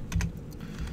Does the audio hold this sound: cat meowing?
no